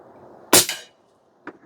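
A single sharp crack from an Umarex Gauntlet 2 SL22 PCP airgun, loud and close, with a short tail, followed about a second later by a fainter click.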